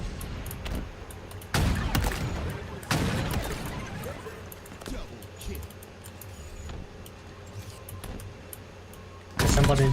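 Rocket launcher blasts go off in a Halo game as a few heavy, booming explosions spaced several seconds apart over continuous game noise, while players talk throughout.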